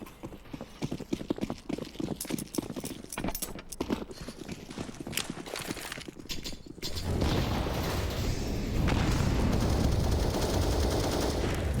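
During a Counter-Strike: Global Offensive match on the Nuke map, scattered sharp gunshots crack in quick irregular bursts for several seconds. A denser, steady wash of firing and noise then takes over.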